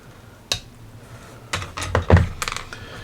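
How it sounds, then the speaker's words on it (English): Plastic clippers snip a Warhammer 40,000 model head, part of Da Red Gobbo's Tinboy, off its sprue: a sharp click, then a run of small clustered snips and taps at close range, with no talking. "So let's trim the head off the sprue."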